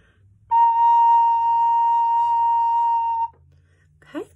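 A recorder plays a single sustained B flat note, clear and steady for nearly three seconds in a quiet room, followed by a brief faint voice.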